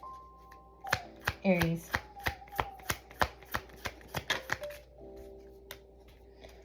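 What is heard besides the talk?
tarot cards being shuffled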